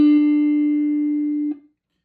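A single D note rings clearly on guitar, played on the third string at the seventh fret, holding steady for about a second and a half before being damped to silence.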